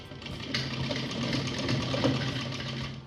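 A sewing machine stitches the side strip of a suit's front piece, a steady close whirring hum with a rapid mechanical needle rhythm running throughout, no talking.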